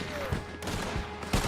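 Cannon fire in a video game: several sharp booming shots at irregular intervals over a constant background hum of game noise.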